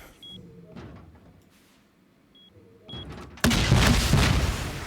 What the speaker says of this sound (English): you guys saw my rocket go off